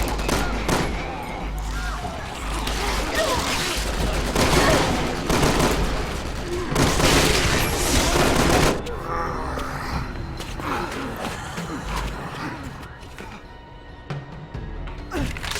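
Gunfire while shooting zombies on rooftops in Resident Evil 6, Leon's campaign: loud, dense bursts of rapid shots and clattering impacts, heaviest early on and easing into scattered shots and game noise later.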